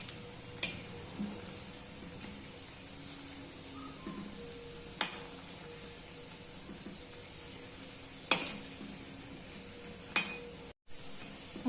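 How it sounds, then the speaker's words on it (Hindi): Mathodi sizzles steadily in hot ghee, a soft continuous frying hiss with occasional sharp ticks and crackles, and a brief drop to silence near the end. "इस तरह से हमें इसे तल लेना है।"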